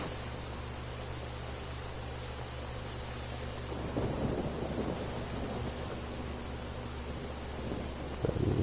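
Thunder rumbles through a stormy outdoor scene in the Genshin Impact video game, a low steady roar under rain that swells into a louder rolling crash midway and surges again near the end.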